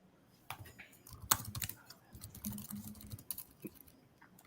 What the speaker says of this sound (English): Pat's clicking buttons here